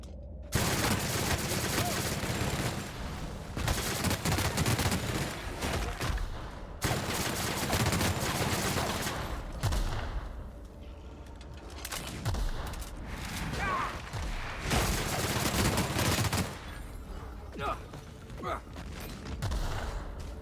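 Repeated bursts of gunfire in The Outer Worlds, loud and close, coming in long volleys separated by short pauses, with occasional booms and mechanical clatter mixed in.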